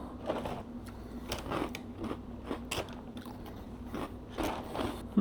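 Crave cereal is bitten and crunched, with a series of crisp, close crunches and chewing scrapes in an irregular rhythm and no talking.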